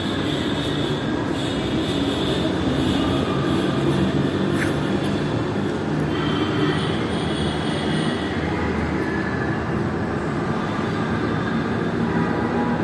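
Steady rumble of a train rolling through a large, grand railway station hall, with a constant loud wash of wheel and carriage noise, faint squeals and no voices.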